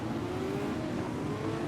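A pace car drives in a Formula Renault racing game, its engine a steady mid-distance hum with a faint whine and no clear revving.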